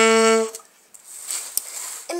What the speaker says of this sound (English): it's supposed to be a G note